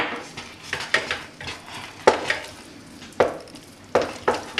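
Risotto being stirred in a pan after a dose of paprika, a spoon scraping and clinking against the metal in a few separate strokes over a low sizzle, close up with no talking.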